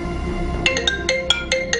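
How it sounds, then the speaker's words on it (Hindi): A telephone rings in short repeated electronic trills, several bursts spaced evenly over a low room hum, fairly close and with no talking. "मुझे लगता है फोन आ गया है।"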